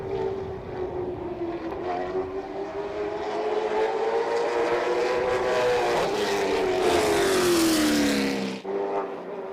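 A CARS Tour race car runs a qualifying lap at South Boston Speedway, its engine note rising and falling as it passes, loud and sustained, with a shift in pitch near the end and a brief drop before the roar resumes.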